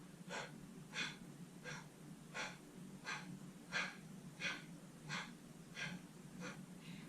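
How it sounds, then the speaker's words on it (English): Rhythmic nasal exhalations during a solar plexus chakra breathing practice, about ten short sharp puffs at an even pace of roughly one every 0.7 seconds, close and fairly soft against quiet room tone. "we're breathing out, drawing the navel in towards the spine as we breathe out through the nose"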